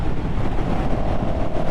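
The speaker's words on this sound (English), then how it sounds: "Wind is definitely heavy today" Heavy wind buffets the microphone during a motorcycle ride, a loud steady roar with constant low rumble and gusty fluttering that fills the whole moment without pause.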